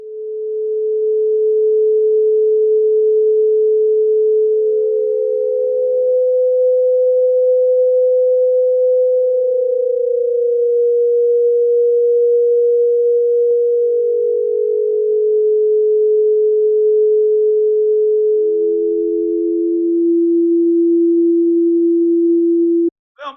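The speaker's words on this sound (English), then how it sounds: "notes that are slightly overlapping that will all be kind of different pitches" Smooth synthesized ambient tones at a sequence of different pitches, each sustained several seconds and slightly overlapping the next, loud and steady, then a brief click at the end.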